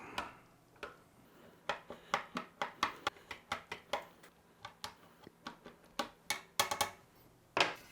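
A dry patrol ration meal is broken up inside its packet with a quick series of sharp, irregular cracks and crunches, close up, with no one talking.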